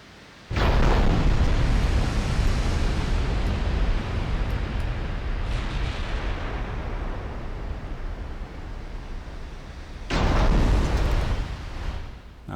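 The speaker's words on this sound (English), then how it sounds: "Now taking some return fire now." Heavy booming impacts of incoming return fire in a naval combat game, a loud blast followed by a long rumbling roar and a second burst later, steady and dense with no talking.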